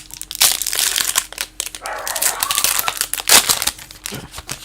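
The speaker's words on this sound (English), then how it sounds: "Someone must have breathed outside of my house because the dogs are going nuts" Dogs going nuts outside a house, sharp barks and yips bursting intermittently alongside crinkling and rustling handling noise close by.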